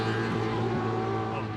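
Drift race cars at Taupo Motorsport Park, including a Hydrolink S14, roar in a sustained, even engine drone heard at a distance, with faint commentary underneath.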